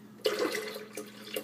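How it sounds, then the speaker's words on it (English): Orange juice pours into a green shake in a blender, a short continuous liquid splash close by with a few brief surges, no talking. "I'm also going to put a little OJ in"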